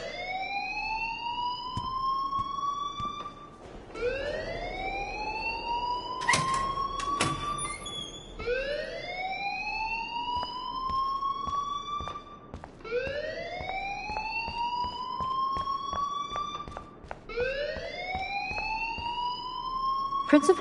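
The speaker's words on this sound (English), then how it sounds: "please turn off that alarm since that's your job" An alarm ringing in a video game, a rising wail that repeats in regular sweeps over about twenty seconds, steady and fairly loud, with occasional clicks and some talk underneath.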